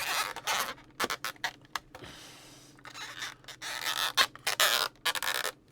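Plastic parts of an Art Asylum Star Trek Enterprise refit model creak and squeak in short bursts as they are forced together, a string of sharp close scrapes with brief pauses between.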